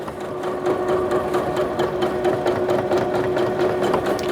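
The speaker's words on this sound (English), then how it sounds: "I'm going to sew on this stretch material and just show you how easy it's able to handle it" A Bernette b38 sewing machine stitches through stretch fabric, giving a steady, close mechanical whir with a fast regular needle rhythm that runs unbroken throughout.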